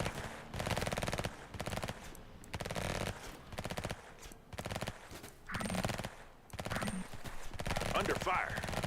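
Rapid bursts of gunfire in the police emergency-response video game Emergency 2024, a SWAT standoff scene, with repeated loud volleys in short clusters across the clip and some game voice lines mixed in.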